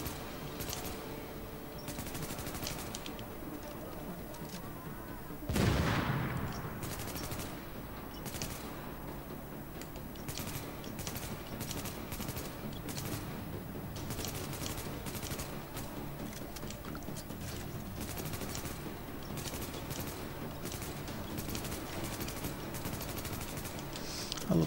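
Gunfire in the video game The Division, with a sustained, dense barrage of shots under a loud broadband blast near the start, continuing throughout the combat scene.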